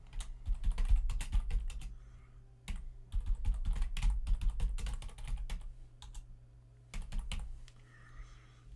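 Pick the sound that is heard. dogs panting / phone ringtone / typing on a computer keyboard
typing on a computer keyboard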